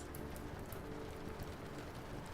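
Soft, steady rain falls across open stone spaces of a castle gallery overlooking a valley, a continuous gentle patter with fine scattered drops, even and unbroken throughout with no voices.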